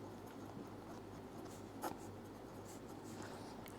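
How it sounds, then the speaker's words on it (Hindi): Pen scratching on paper while math is written out, a soft continuous scribble under a dense, steady background hiss, with one slightly sharper stroke midway. "तो ढंग से लिख देते हैं"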